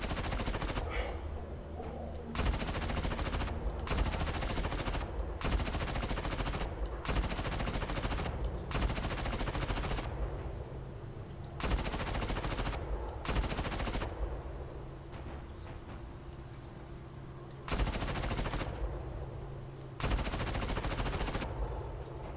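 Sustained machine-gun searching fire in a video game, long bursts of rapid automatic shots separated by short pauses, loud and close throughout.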